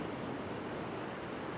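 Ocean waves break along a beach where someone is surf fishing, forming a continuous broadband wash of surf that stays steady and fairly loud, with no voices.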